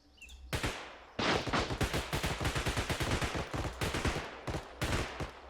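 Rapid gunfire in the video game Bodycam, loud close bursts of repeated shots crackling in a steady, rattling rhythm with short pauses between volleys.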